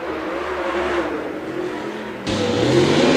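A late model race car runs a qualifying lap at Davenport, its engine droning loudly and steadily, then swelling into a harder acceleration partway through.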